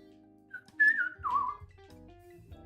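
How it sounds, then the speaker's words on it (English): A person whistles a short melodic phrase of a few sliding notes, near and clear over faint background sound, then stops. "I should try not to whistle."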